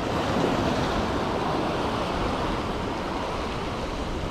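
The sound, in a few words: sea waves breaking on the shore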